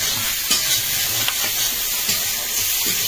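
Prawns and crab sizzle in a pan of hot ghee, a loud steady frying hiss heard up close, with occasional stirring scrapes and no talk over it.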